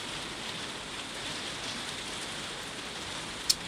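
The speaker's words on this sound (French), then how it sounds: "Baston sous la pluie" Steady rain ambience playing as background atmosphere during a Marvel Champions board game, a constant soft hiss of falling rain with no voices.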